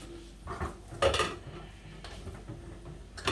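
A lid set down on a cooking pot of simmering Jamaican curried beans or pumpkin rice, several short metallic clinks and clatters close by, with no talking.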